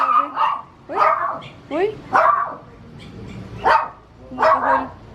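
Puppies bark in a string of sharp, close yips and barks spread through the moment, mixed with a person's voice speaking between them.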